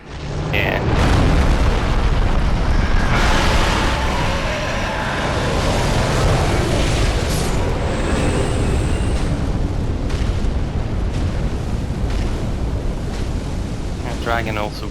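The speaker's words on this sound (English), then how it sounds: "The dragon also breathes fire down this way." A dragon breathes fire across the High Wall of Lothric in Dark Souls 3, producing a loud, continuous roaring whoosh that fills the whole span without a break, thick and booming like a blast of wind.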